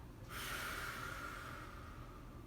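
A child's long exhale during rainbow breathing in a kids' yoga session, one soft, airy breath out that begins abruptly and carries on steadily, close to the microphone, with no talking.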